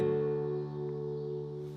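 A single acoustic guitar chord, barred with the index finger at the 7th fret, strummed once and left to ring steadily and fairly quietly for nearly two seconds.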